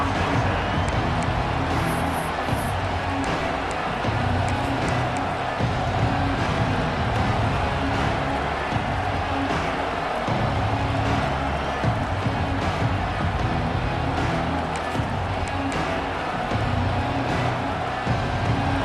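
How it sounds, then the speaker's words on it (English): A stadium crowd in a college football video game roars steadily and loudly throughout, a dense continuous wall of cheering with scattered claps and whistles and no break. "This crowd ready to make its presence known."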